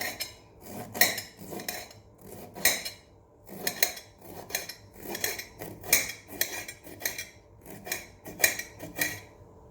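A knife chops bitter gourd (karela) into thin slices on a board, producing a steady run of crisp, close cutting taps in an uneven rhythm, clear and alone.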